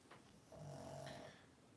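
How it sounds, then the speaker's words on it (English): A pug snoring quietly indoors, one faint drawn-out nasal snore with a soft whistling rasp, heard at a distance. "It is the pug snoring"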